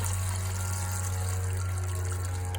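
Water poured through a funnel into a modern olla pot for a Valencia orange tree in a 15 gallon container, a steady continuous splashing trickle with a low hum underneath, close and unbroken.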